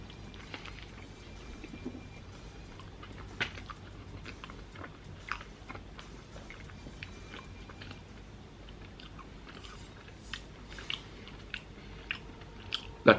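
Someone eats a mixed shawarma, with soft chewing and occasional crunchy bites scattered through a quiet stretch and a few sharper, louder bites near the end.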